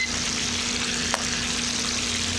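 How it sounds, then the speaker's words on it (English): Chicken for hot honey chicken sizzles steadily in a pan over medium heat, a constant bright frying hiss with one small tap partway through and no talking. "we're going to cook this chicken for 10 more minutes on this side"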